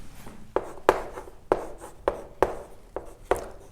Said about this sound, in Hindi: मैं इसको यहां लिख देता हूं इधर